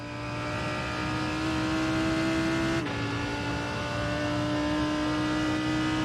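Race car engines from the IMSA racing video game at Road Atlanta, with a faster class-leading car closing in and passing. A steady, loud, droning engine tone runs throughout, with a brief pitch shift near the middle as the faster car goes by.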